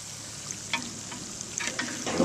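Potatoes and onions frying in a pan, a steady low sizzle with a few scattered scraping strokes across the pan bottom, fairly quiet and close.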